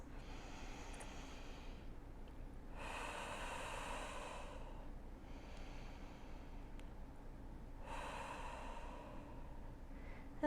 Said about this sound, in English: So just take about 3 deep breaths here